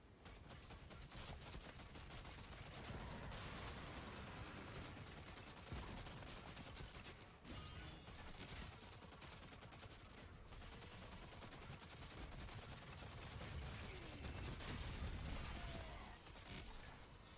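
Rapid gunfire from a heavy weapon in Doom: The Dark Ages, a dense, continuous barrage of loud shots and mechanical clanks filling the whole stretch with no talking.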